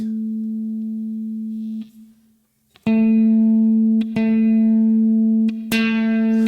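A single guitar A string, played through a Headrush MX5, rings out sustained, fades, then is plucked again several times, each note ringing clearly and alone.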